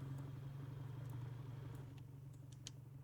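In a driving video game, a car engine hums at a steady low idle and then quietly cuts out, leaving a few faint clicks; soft and close, with no talk.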